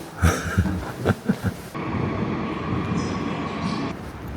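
Subway train ride in Seoul, with a steady close rumble of the moving carriage after a few brief knocks and thumps, continuous and fairly loud with no talk.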